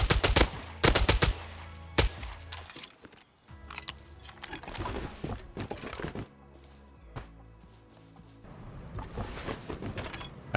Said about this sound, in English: I heard more shots just as I was depoting